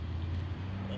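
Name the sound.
street traffic near a garden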